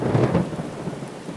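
Steady rain falls under a low, rolling rumble of thunder, heavy and fairly close, with no voices.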